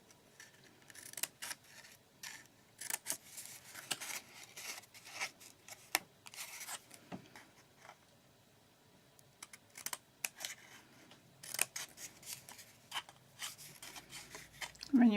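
Scissors snip through craft material in a run of quick, light clicks and cuts, spaced irregularly and fairly quiet, with brief pauses between strokes.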